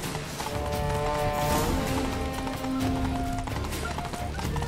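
Horse hooves galloping at a steady rhythmic clip-clop in The Witcher 3: Blood and Wine, close and continuous beneath game music and ambient sound, with an occasional whinny.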